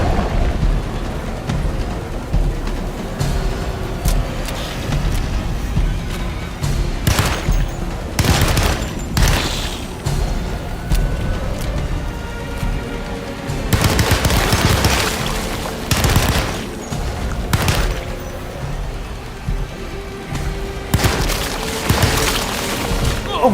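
Loud video game gunfire, with rapid bursts of shots and booming impacts over a steady noisy background. The volleys recur throughout, with denser clusters near the middle and the end.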